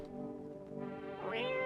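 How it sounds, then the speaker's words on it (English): A cat meows in the horror game No I'm Not A Human, a single rising, drawn-out meow that climbs in pitch at the end, close and moderately loud. "Pick up the cat."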